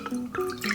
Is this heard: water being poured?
yes